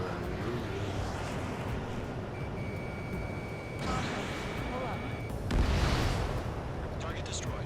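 Anti-aircraft fire in the video game Ace Combat 7, a dense, continuous roar of rumbling blasts and bursts with a sustained tone through the middle and a louder burst near the end, under speech.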